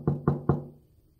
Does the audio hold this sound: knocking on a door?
yes